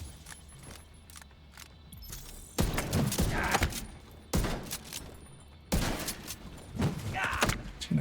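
Bursts of Diamondback gunfire in a video game, three loud broadband volleys of rapid shots separated by quieter gaps with light clicking, close and without talk.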